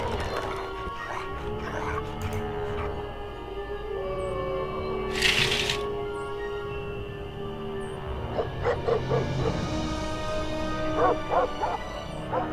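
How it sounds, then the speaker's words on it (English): A dog in the video game Ghost Dogs of Moon Lake barks and yips in short bursts over a low ambient game soundtrack, with a brief burst of noise midway; faint, moderately distant. "That is a badly animated dog."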